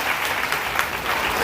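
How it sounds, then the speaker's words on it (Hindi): A church congregation claps together during a Hindi Christian service, a dense continuous wash of many hands at steady volume throughout, without clear voices on top. "ताली बजा के प्रभु के नाम को"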